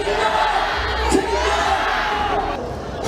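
A large street crowd of citizens at a freezing winter candlelight protest rally roars and shouts together in a dense, sustained wall of voices, with a brief louder swell partway through.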